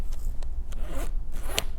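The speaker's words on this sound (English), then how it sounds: "She's opening a zipper for the pot." A zipper opens in several short, rasping pulls, close and crisp, ending with a brighter final zip, with no voices over it.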